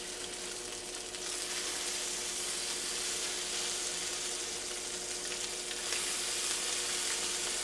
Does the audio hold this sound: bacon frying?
yes